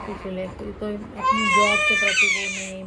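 A baby girl cries in rising, wavering wails that grow louder toward the end, close by, while someone talks over the crying.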